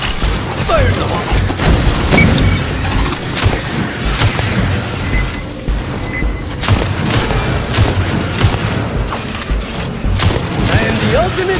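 Loud, dense combat din in the video game Aliens Fireteam Elite, with repeated booming blasts of a grenade explosion amid constant gunfire and crashes throughout.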